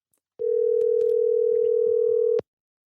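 A steady telephone dial tone holds for about two seconds, clear and close, then cuts off abruptly. Faint clicks sit under it.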